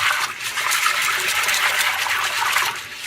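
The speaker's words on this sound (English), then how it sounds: "I typically just run them with hot water," Hot water runs steadily over beans being rinsed and sloshed, a continuous broadband splashing and gushing that stays close and loud throughout with no break.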